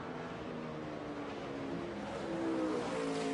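A NASCAR Xfinity race car driven by Nelson Piquet Jr. roars steadily through the Road America road course, its engine a continuous loud drone that swells slightly toward the end, with no talk.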